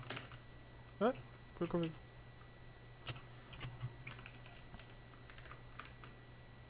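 Typing on a new computer keyboard, a few quick bursts of soft key clicks at close range, quiet overall, with brief speech over a low background hum.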